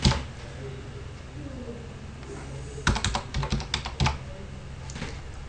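Keystrokes on a computer keyboard entering a number, a quick burst of separate clicks in the middle, then one more tap, close and moderately loud over a quiet room hum.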